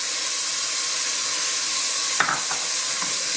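Carrots and onion frying in a pan, with a steady loud sizzling hiss throughout and a couple of brief scraping stirs near the end, no voices.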